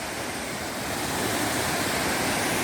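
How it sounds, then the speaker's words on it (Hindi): Waterfall on the Spiti–Kinnaur road, water dropping from a great height in a steady, dense broadband roar that swells slightly louder partway through, with no voices. "काफ़ी ऊंचाई से पानी गिर रहा है"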